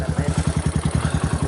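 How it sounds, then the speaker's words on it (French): Motorcycle at an illegal mining site in the Peruvian forest, its engine chugging in a steady, rapid low pulse close by. "il y a une moto qui approche"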